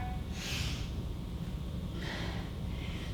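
Heavy breaths during an ab exercise, two distinct huffing exhales about a second and a half apart, close and fairly quiet over a low background hum.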